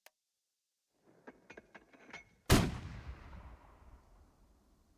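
A weapon fires in a video game demo: a handful of light clicks and taps, then one loud booming shot that rings out and decays over a couple of seconds, with no voices.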